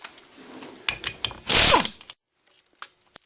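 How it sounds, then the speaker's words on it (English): A ratchet clicks and whirs while loosening 10mm bolts from the pump stator of a Ford 4R70W automatic transmission, with quick ratcheting bursts, then a louder sustained spin, followed by a few light metallic clinks near the mic. "So we'll remove these 10mm bolts."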